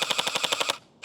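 A Scourge gel ball blaster fires a rapid, evenly spaced burst of about nine sharp mechanical shots in under a second, close and loud, then stops abruptly.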